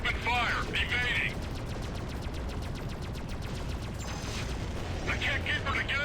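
Rapid automatic weapon fire crackles in steady bursts during a space combat in the game Freelancer, with sharp electronic shot effects at the start and end over a constant engine drone.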